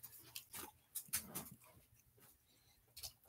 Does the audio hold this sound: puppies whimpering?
yes